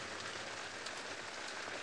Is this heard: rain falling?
yes